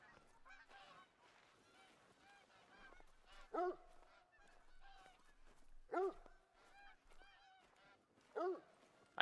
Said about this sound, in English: I think we're getting close to a Canadian goose landing zone because they're all just kind of hovering right there